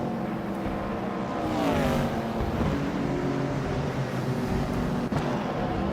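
A 1963 TVR Griffith 200 race car drives past with a steady, droning engine note that rises in pitch and then settles, heard alone at moderate distance.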